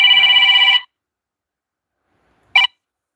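Phone chiming with incoming calls and notifications, a loud sustained electronic ring that cuts off, then after a silent gap one short ring burst, close and alone.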